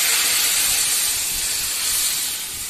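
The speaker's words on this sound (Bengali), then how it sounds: "তো এইবার তার মধ্যে আমরা দিয়ে দেব নারকেলের দুধটা, যেটা মেন ইনগ্রিডিয়েন্টস।" Coconut milk poured into hot oil for Bengali prawn malai curry sizzles with a loud, steady, steamy hiss that holds without a break, alone with no talk.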